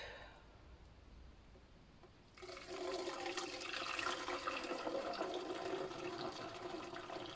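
Homemade liquid laundry stain remover poured after a quiet start, becoming a steady close splashing, gurgling flow that carries on to the end.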